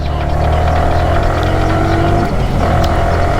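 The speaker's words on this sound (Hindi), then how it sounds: "ये देखो 2 नंबर में गाड़ी डालें, अच्छा चल रही है।" A car engine drones steadily and loudly in second gear on a long highway drive, running smoothly, with a constant low hum filling the whole stretch and no talk.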